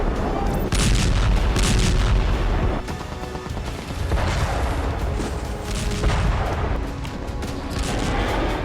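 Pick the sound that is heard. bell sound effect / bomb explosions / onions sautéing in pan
bomb explosions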